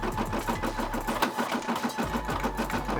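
A Brother SE600 embroidery machine stitches out a turkey design with a fast, steady needle rhythm over a continuous motor hum. It is close and alone throughout.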